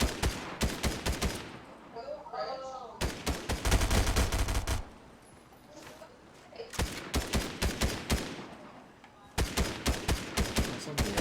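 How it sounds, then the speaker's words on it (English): Rapid bursts of gunfire in the video game Fortnite: dense volleys of sharp shots crackle in quick succession, stop for a moment, then resume in several strings of fire, fairly loud throughout. "He's shooting at somebody there."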